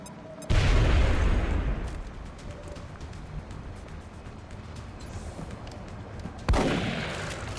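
In the XCOM Long War video game, a frag grenade detonates with a heavy boom, followed by rumbling gunfire and debris, then a second loud blast a few seconds later. The booms are close and dominate the mix.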